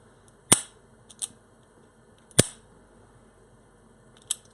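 A Ruger LCR 9mm revolver dry-firing with its smooth factory trigger, producing sharp metallic clicks, two strong and a couple lighter, spaced irregularly and up close with no other sound.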